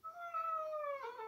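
A pet cat lets out one drawn-out meow that slides downward and then rises into a second brief cry, close and clear with no talking.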